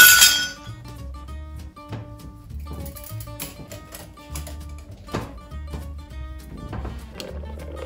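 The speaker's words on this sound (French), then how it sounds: "on enlève les glaçons du verre." Ice cubes clink and knock against a glass as they are tipped out, a run of sharp bright taps close by with short gaps, over quiet background music.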